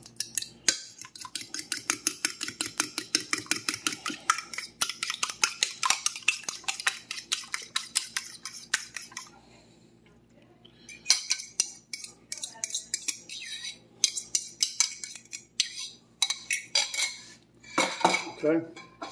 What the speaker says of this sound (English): going to beat up my egg a little bit